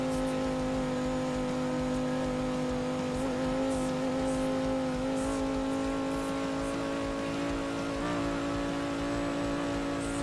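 A racing car engine from Need for Speed: Heat holds a steady, loud drone across the whole stretch, with small pitch shifts as it revs but no big sweeps, and no talk over it.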